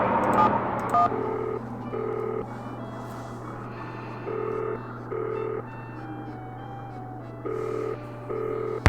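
Telephone keypad dialing tones sound in the Nancy Drew computer game Danger by Design, a series of short evenly paced beeps in clusters over a steady low hum.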